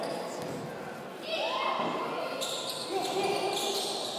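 A basketball rattles with a few small bounces on the rim during a French NM2 men's game between Venelles and La Pontoise, soft and brief under a commentator's voice and arena noise.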